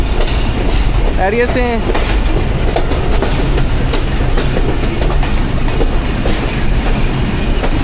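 The 13 UP Awam Express passenger train rolling along the rails between Rawalpindi and Attock, loud constant rumble with rhythmic clickety-clack of wheels, heard from on board while someone briefly speaks.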